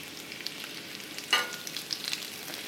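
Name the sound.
pork tenderloin frying in a skillet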